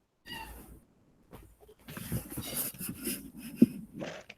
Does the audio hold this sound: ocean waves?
no